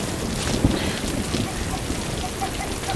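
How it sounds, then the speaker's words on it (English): Steady rain falls in a period drama scene, a dense even hiss of drops with some gusty wind noise, continuous and fairly loud with a few faint knocks underneath. "just for rain to come out of nowhere and mess it up"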